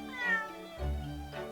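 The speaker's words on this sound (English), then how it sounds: "Cute, cute cat." Wagahai the cat in The Great Ace Attorney Chronicles video game meows twice, clear close cries with a short pause between them, alone with no talking.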